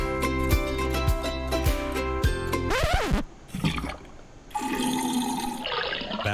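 A toilet flushes loudly in a drain service radio ad, opening over a musical backing, then a rushing gurgle of water drains away before a second surge of water follows briefly.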